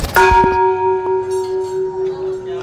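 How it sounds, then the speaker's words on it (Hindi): The main bell of the Chhinnamasta Bhagwati temple in Sakhada, Saptari, Nepal is struck once, loud and close, and its bright metallic tone rings on with a steady pulsing hum as it slowly dies away. "ये सामने जो देख रहे हैं वो मुख्य घंटा है"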